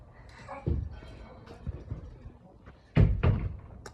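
A door shuts with a solid thump, followed by quieter knocks and then another pair of heavier closing thuds near the end, with faint room noise between.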